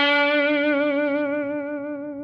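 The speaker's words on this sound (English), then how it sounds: "I'm going to do this bend here and vibrato." Electric guitar note on the G string bent up and held with a steady vibrato, played through effects with distortion and echo in a minor 12-bar blues solo; a single sustained, wavering tone that slowly fades over a couple of seconds.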